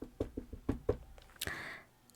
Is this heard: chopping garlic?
no